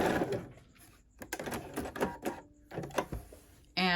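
Bernina 480 sewing machine stitching a decorative pattern: close bursts of rapid mechanical whirring and needle clatter in uneven runs, broken by short pauses and ending with a sharp motor whine.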